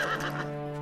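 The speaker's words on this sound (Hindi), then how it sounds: "ये घोड़ा महाराजा राम द्वारा किए जा रहे अश्वमेध यज्ञ का है" A single horse gives a short, bright neigh that trails into a steady tonal whinny, close and clear with no talking.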